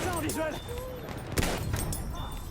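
Gunfire in the World War I shooter Battlefield 1 at night, played as a scout, with sharp reports and a louder crack near the middle, heard beneath a continuous talking voice.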